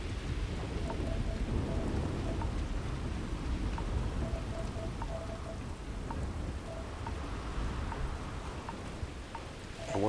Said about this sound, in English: This storm's getting worse, not better.